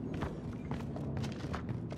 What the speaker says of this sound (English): I hear footsteps next to us